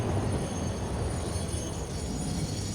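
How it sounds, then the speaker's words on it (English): A train rolling past in the factory-building game Satisfactory, a steady low rumble with faint high hiss and squeal, no voices. "There's another train here."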